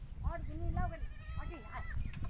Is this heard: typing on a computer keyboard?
no